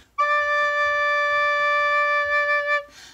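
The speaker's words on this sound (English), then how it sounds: "Let me hear a low D." A single sustained low D note on a recorder, clear and pure, held steadily for nearly three seconds before cutting off; played alone and close.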